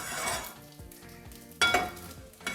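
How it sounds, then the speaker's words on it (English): Olive oil sizzling in a pan as eggs cook, with light utensil stirring and clinks and a louder spurt of sizzle partway, no talking. "add a little bit of olive oil into our other pan for our eggs"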